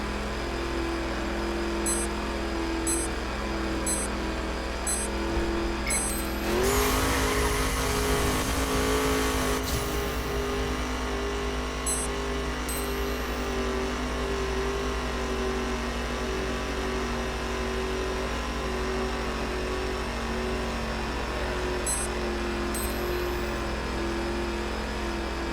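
Car engines in a race in the driving game The Crew, a steady close engine drone throughout, rising into a loud surge with scraping noise around the middle before settling back to a constant hum.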